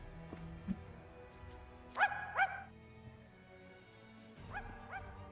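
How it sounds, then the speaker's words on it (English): Zero, the ghost dog from Twisted Wonderland, giving a few short yipping barks: a soft yip early, a quick double bark near the middle and another pair near the end, over quiet game music. "I gave Zero the voices, gave him like voice lines so that I could actually hear him bark"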